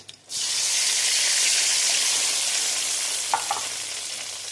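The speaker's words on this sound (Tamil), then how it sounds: "இப்போ நான் புளி கரைசலை ஆட் பண்ணிக்கிறேன்" Tamarind water poured into eggplant frying in oil, bursting into a loud, sustained sizzle after a brief quiet start, with a couple of faint utensil clicks near the end.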